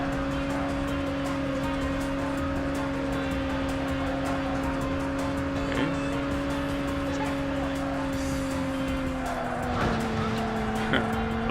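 A Roadster drifts in the racing game Burnout, a steady engine drone with sustained tire squeal that shifts pitch as the car slides, under faint talk.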